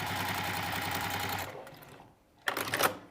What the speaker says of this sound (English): I'm just going to sew up here, just to make it the right size.